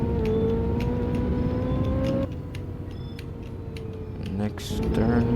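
A McLaren 600LT on a race track accelerates at full throttle, its engine note rising steadily and loud, then dropping at a gear shift before climbing again, with a voice speaking briefly over it.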